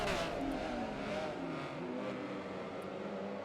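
A 582-horsepower Porsche Carrera GT races in a Forza game, its engine roaring loud and steady before easing slightly, with no voices over it.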